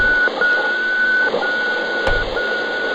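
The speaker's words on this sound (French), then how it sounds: "voici comment des moniteurs cardiaques de l'époque étaient transmis par radio" Radio-transmitted heart monitor on an old audio recording gives a steady electronic tone that cuts out briefly at irregular intervals, each cut marking a beat, over a hissy, crackling background with one sharp click.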